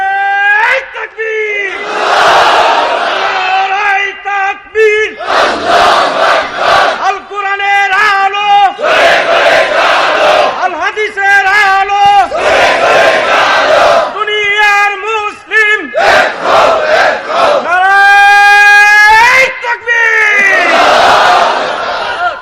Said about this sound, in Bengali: তাকবীর দেয়া যাবে? জোরে না আস্তে?